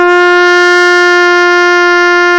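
A trumpet holds one bright, brassy open G note at an even volume throughout.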